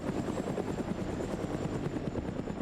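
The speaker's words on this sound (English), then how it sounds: "But helicopters flying over OPFOR's position again." A helicopter flying overhead in the Arma 3 military game, with steady rapid rotor chopping and a droning turbine whine that stay loud and even throughout, no voices.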